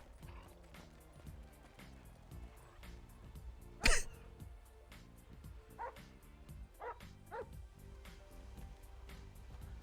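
A dog in GTA V NoPixel roleplay barks repeatedly in short, scattered yaps over a rumbling engine and mechanical noise, with one louder sharp burst partway through.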